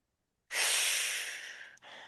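A Pilates class inhaling together in one long, loud, breathy rush of air, starting abruptly after silence and tapering off with a short break near the end.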